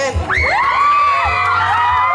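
Loud crowd screaming and cheering for contestant number 10 at a pageant-style event, high shrill whoops and yells rising together into a sustained roar, close and intense.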